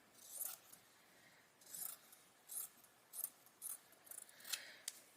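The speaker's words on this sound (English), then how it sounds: "I am going to trim this up some because we don't need quite that much fabric" Scissors snip through fabric being trimmed for a small couch cushion, six or seven quiet, crisp cuts in an uneven rhythm, close by, with no talking.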